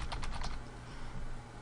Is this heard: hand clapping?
no